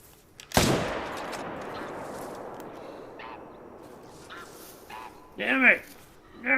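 A sharp, loud gunshot from a .300 rifle cracks out in a hunting video game, then a long decaying echo and a few scattered bird calls, ending in a burst of harsh quacking squawks.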